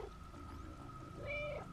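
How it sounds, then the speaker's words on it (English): A cat meows in the video game Stray, one short rising meow near the end of a brief, quiet stretch with a faint steady background tone. "I can just meow endlessly as I walk into this dramatic scene."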